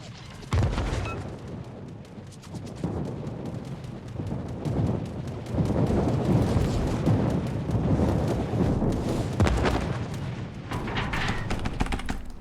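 Thunderer battleship firing shells in a naval video game, repeated heavy booming blasts and rumbling impacts rolling over one another across a dense, loud battle soundscape, no talking.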